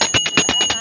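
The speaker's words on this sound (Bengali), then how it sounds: "তো ঘন্টা বাজাও দেখি ফাহাদ।" A child rings a small bell in quick rapid strikes, about seven bright metallic dings in under a second, close and loud with a lingering high ring.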